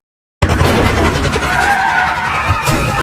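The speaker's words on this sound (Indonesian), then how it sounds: "tiba-tiba ia tertabrak oleh mobil yang jalan di depannya" After a moment of silence, a car suddenly skids hard with a loud, sustained tire screech that holds close and strong for nearly three seconds.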